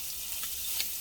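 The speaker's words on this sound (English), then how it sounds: "is my andouille sausage. And we're going to let this brown." Andouille sausage browning in a gumbo pot gives a steady, even hiss of sizzling, with a couple of faint brief pops rising above it, no voices.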